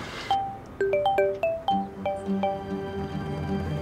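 A mobile phone rings with a bright, bell-like melodic ringtone, a series of chiming tones starting after a brief pause and repeating steadily at moderate volume with no talk.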